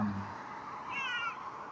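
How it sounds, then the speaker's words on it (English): A cat meows once, a short mid-pitched call rising and falling near the middle, close by, over a steady low room hum with no talking. "Hi, kitty cat."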